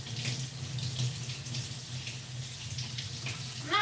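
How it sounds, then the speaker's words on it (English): Tap water running steadily into a kitchen sink while kiwis are rinsed under it, a continuous close splashing rush with no voices. "And now, let me wash a few of these kiwis."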